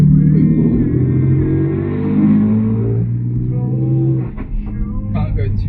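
Car accelerating on a residential street with its exhaust valves open, the engine swelling into a loud, close, steady rumble that eases off toward the end, with a few brief crackles.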